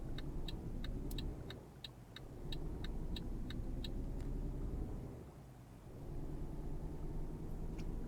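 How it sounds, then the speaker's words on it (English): A car in Euro Truck Simulator passes by twice, a steady road rumble swelling and fading, with a rapid chirping tick above it in the first half and no talk. "There's a car coming."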